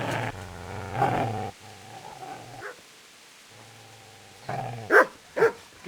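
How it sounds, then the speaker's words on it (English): A dog in Kingdom Come Deliverance barks and growls in short bursts, with a sustained growl early and sharp barks near the end, close and fairly loud against a quiet background. "Get away, you mutt!"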